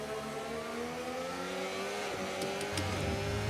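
Formula 1 car engine from the Mercedes F1 video game, a steady high-pitched whine with harmonic bands shifting as it revs and changes gear, continuous and up close throughout.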